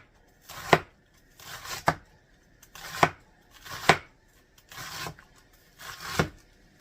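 Rada kitchen knife chopping food on a cutting board, six steady, evenly spaced cuts about one second apart, close and crisp, each with a short scraping tail.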